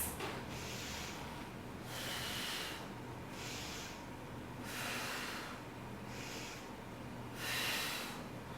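Slow, steady breathing during a crescent yoga pose in a ballet yoga fusion workout, with several soft, airy breaths in a regular rhythm, fairly close and quiet.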